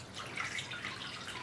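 Stock pours continuously into a bowl during pressure canning, a soft, steady liquid splashing and trickling heard close up for a brief moment.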